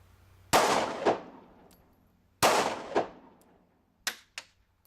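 Two sharp, loud handgun shots fired one-handed with the strong hand at an outdoor CCW qualification range, each with a quick echo, followed by two fainter distant shots from elsewhere on the range.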